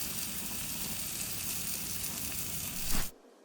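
Picanha steak sizzling on a grill, a dense continuous crackling hiss that swells briefly near the end and then cuts off to near silence.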